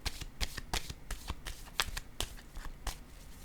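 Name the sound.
card being laid down on a table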